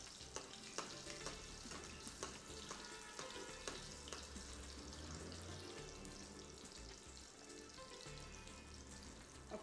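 Fish frying in oil over high heat makes a dense, continuous sizzle with scattered pops and crackles. It holds steady throughout with no voices.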